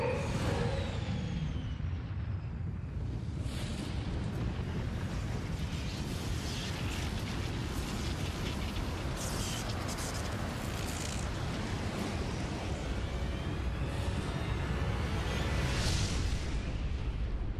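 A powerful spell ritual detonates in the game Serpent's Tongue, a long loud roaring rumble with bursts and crackling surges that swell and ebb steadily for the whole span, no voices.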